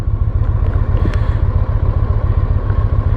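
A motorcycle engine running steadily with a fast, even low thump, close and loud, as the bike is put into first gear to pull away, no voices.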